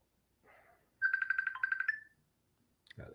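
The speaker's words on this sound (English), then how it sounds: "People calling me. My phone acting crazy." A phone ringtone from an incoming call plays a short, bright, rapidly pulsing melodic burst for about a second, loud and close, with faint rustling around it.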